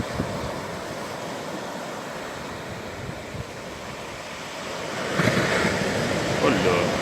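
Sea waves at Les Sables d'Olonne wash and break in a steady, broadband rush mixed with wind buffeting, swelling louder near the end.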